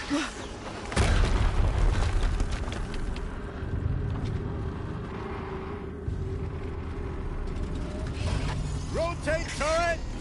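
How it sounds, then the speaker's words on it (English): Explosions boom and rumble amid mechanical clatter in the video game Horizon Zero Dawn, a loud blast followed by sustained low roar, with a voice talking and rising tonal effects near the end. "Another explosion."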